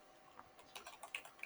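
Quick light taps on a computer keyboard come in a short irregular flurry, soft and close, with no voices.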